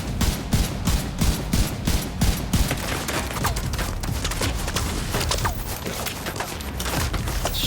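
Rapid gunfire in The Division 2 rattles in quick repeated bursts, close and loud, settling into a dense, continuous barrage of shots and impacts.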